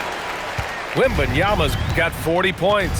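Arena crowd in the NBA 2K26 basketball game, a steady roar of cheering and applause running beneath a commentator's voice throughout.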